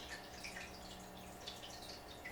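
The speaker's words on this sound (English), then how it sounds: "that's my fish tank that you hear in the background with the dripping water" Water drips faintly in a home fish tank, scattered light plinks over a steady low background hum.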